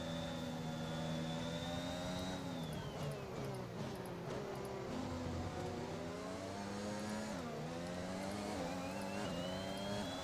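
A Ferrari Formula 1 car in the F1 2021 racing game at Bahrain, engine screaming loud and continuous as it revs up through gears, pitch sliding down on upshifts and climbing again.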